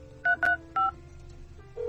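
A mobile phone dials a call with three quick touch-tone beeps over a faint background hum, then a soft tone begins at the end.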